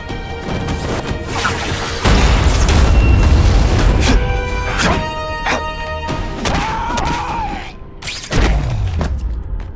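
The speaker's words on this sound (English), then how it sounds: "No one gets left out when I use the seismic blast." Seismic blast attack in The Amazing Spider-Man 2 game: a loud, sustained crashing rumble of booms and smashes with a deep low end, followed by a brief dip and another heavy impact near the end, with no talk.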